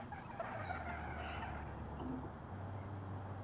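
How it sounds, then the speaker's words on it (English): Tires squealing on a Nissan Qashqai in BeamNG.drive, a sustained skidding screech over a steady low engine drone, continuous and fairly close for the whole stretch. "Let's get them squealy wheels going."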